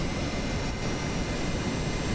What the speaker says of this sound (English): Here we are launching the final Sea Widow off the USS Enterprise